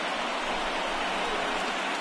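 Rain pours down steadily during a baseball game in an MLB video game, a dense, even hiss of drops on surfaces with no talk over it.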